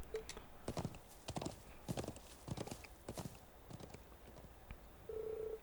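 Horse hooves clip-clop in a steady walking rhythm in the video game Trails of Cold Steel IV, moderately close, ending with a brief tonal chime, with no talk over them.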